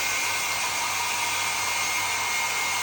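A hair dryer blows right up close, a loud, steady whooshing roar with a constant motor whine and no change in pitch or volume, no voices.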